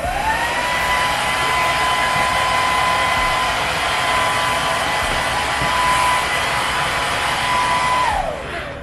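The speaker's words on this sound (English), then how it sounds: "So now I'm about to go in and actually dry my hair a little bit" A hair dryer on its low cool setting blows steadily and loudly while drying natural hair, with a constant whooshing hum and a whine that drops as it switches off near the end.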